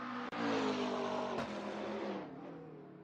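GT3 race car in a racing video game, a loud, steady high-revving engine with sharp gearshift cuts, then easing off and fading slightly toward the end.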